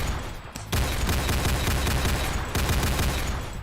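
Rapid sustained burst of automatic gunfire from the Longma weapon in a shooter game, a dense, loud crackling fusillade with a short pause near the start and another brief break toward the end.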